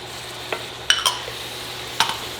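Garlic and jalapenos being stirred into a taco casserole mixture, with a few sharp spoon scrapes and clicks against the bowl over a quiet background.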